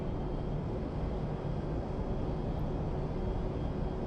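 A Boeing 737-900 taxis in the FSX flight simulator, its jet engines making a steady, even, mid-level broadband hum and whine with no voices.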